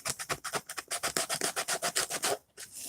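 Hand rubbing across a wood bathroom cabinet to remove a cross-grain sanding mark, made as a quick, even series of about fifteen close, raspy back-and-forth strokes that ends in a brief pause and one last stroke.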